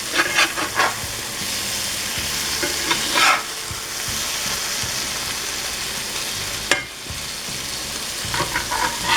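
Squash fries and sizzles in a pan for breakfast, a steady loud crackling hiss with bursts of spattering and a brief clatter as pieces are flipped, no talking.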